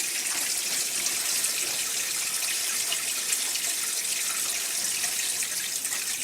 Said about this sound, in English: we just fill the sink up and give her a test here